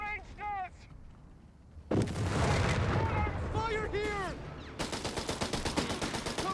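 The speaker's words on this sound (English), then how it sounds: "Quick bit artillery fire there" Artillery fire in the video game Company of Heroes 3, heavy booming blasts and a rumbling barrage mixed with rapid gunfire bursts, loud and dense, with game voice lines over the top.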